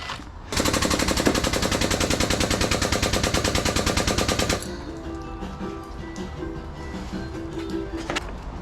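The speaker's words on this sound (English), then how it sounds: "Not good when your crane's making all kinds of popping noises." A scrapyard crane handling transformers gives off a fast, loud run of rapid popping bursts that stops abruptly, followed by quieter mechanical rattles and clanks.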